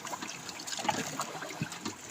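A paddle strokes through calm water on the way to an island, soft splashes and trickles repeating in an easy rhythm, close and fairly quiet with no talk.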